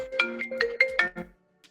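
A phone rings with a FaceTime call in a home kitchen, a bright melodic ringtone of rising chime notes lasting about a second and a half, loud and clear with no talk over it.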